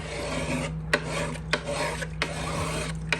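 A plastic scraper rasps across a cast iron pan, working off stuck-on food in several steady back-and-forth strokes with brief pauses between, close and clear over a low hum.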